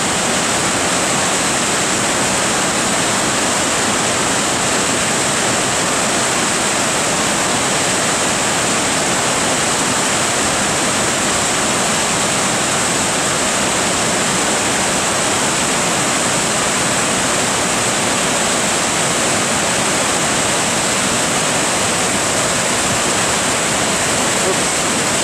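A waterfall near Lake Louise, seen on a hike, roars as a steady, loud, unbroken rush of falling water that fills the whole stretch, with no voices over it.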